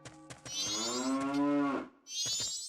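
A cow in the Majora's Mask video game lets out a long, sustained moo, clear and fairly close, then a second moo begins after a brief pause.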